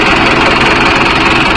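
A Mahindra 605 tractor engine runs at a steady idle during an oil service, close and loud, with a constant droning hum and no change in pitch.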